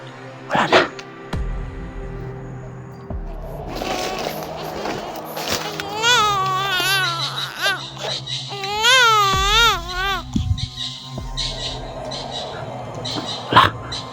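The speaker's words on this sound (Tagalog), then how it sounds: "Bata, guys. Umiiyak ng bata, guys." A child cries somewhere out of sight, the wavering sobbing wails rising and falling in several bursts over steady background noise, with a few sharp knocks at the start and end.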